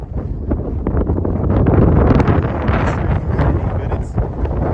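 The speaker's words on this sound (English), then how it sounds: "It's very breezy, if I haven't mentioned that." Breezy Southern California wind buffets an outdoor microphone, a loud, continuous low roar with gusty swells and rustle, steady throughout.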